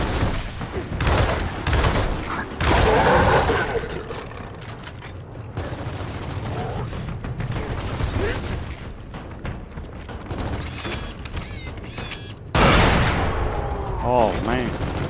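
Rapid bursts of gunfire from Gears of War 4 rattle almost nonstop, loud and dense with heavy impacts and mechanical clatter, while a player talks over the action at times.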